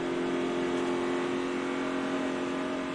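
A NASCAR stock car, number 9, races past at the 2009 Kobalt Tools 500, its engine a loud, steady, high droning roar with strong tonal whine that fills the whole stretch without letting up.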